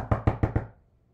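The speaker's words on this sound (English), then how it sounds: "he went and knocked on Grandma's door." Four quick, evenly spaced knocks land on a door at close range, each a firm wooden thud, followed by a short fading ring into quiet.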